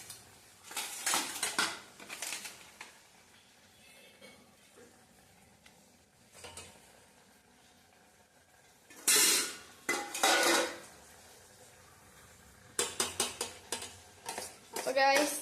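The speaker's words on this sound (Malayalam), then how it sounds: "ഇതേ നമ്മൾ പാസ്ത ഒന്ന് ഇളക്കുകയാണ്" Pasta is stirred in a pan with a utensil, giving bursts of scraping, clinking metal strokes that come and go between quieter pauses and faint sizzling.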